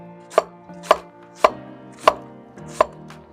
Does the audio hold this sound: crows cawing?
no